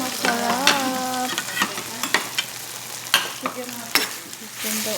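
Chicken sautés in a hot pan for a Filipino ginisang labanos (sautéed radish) dish, with steady sizzling and repeated sharp scrapes and clacks of stirring. No one talks.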